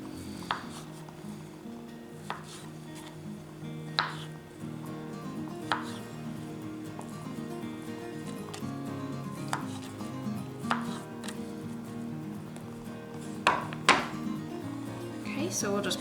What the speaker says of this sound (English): Over here we'll go ahead and slice up the cinnamon rolls.